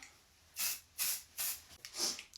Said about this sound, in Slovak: Tento sprej na oblečenie, na textil z voňavého domova.